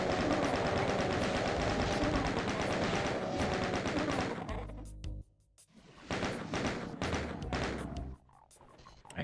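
Chaingun fire in the video game Doom II, a loud sustained burst of rapid shots, a short pause, then further bursts of machine-gun fire with thuds mixed in.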